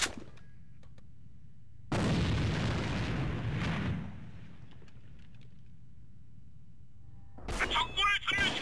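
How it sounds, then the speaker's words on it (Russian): A grenade explodes in the online shooter AVA: a loud, sustained boom for about two seconds with a rumbling tail, followed later by a burst of noisy game effects. "Бросаю гранату!"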